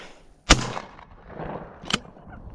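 Two shotgun blasts from a Winchester 101 XTR while shooting skeet outdoors, each a sharp loud crack with a short fading tail, spaced about a second and a half apart.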